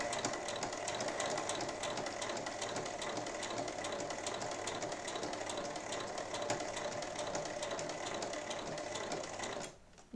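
A sewing machine stitches slowly through pinned fabric eight millimetres from the edge, a close, steady rapid whirring rattle running continuously before it stops abruptly near the end.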